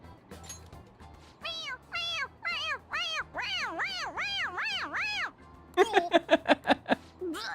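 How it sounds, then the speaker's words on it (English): A stuffed toy cat in Persona 5 Royal meows each time its head is pressed: a string of about a dozen clear, close meows, slower at first, then a rapid burst of short ones, over a faint low game hum. "It meows when you press on its head."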